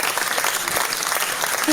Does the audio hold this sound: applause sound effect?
yes